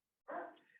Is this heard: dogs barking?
yes